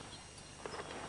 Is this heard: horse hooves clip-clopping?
yes